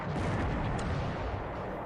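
Naval gunfire from a small warship in the strategy game War in the Pacific rumbles as a broad, sustained low boom, loud and heavy, lasting under two seconds with no talk.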